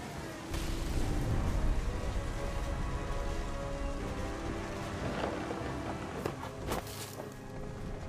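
Steady rain pours in the video game What Remains of Edith Finch, a dense continuous hiss with scattered louder drops and knocks running throughout.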